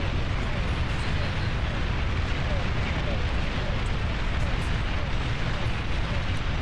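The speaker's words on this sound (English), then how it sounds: "Looks like it's a full carpet bomb." A carpet bombing in the video game Beyond All Reason, heard as dense, continuous explosions that rumble and crackle at a steady level throughout, with no clear gaps between the blasts.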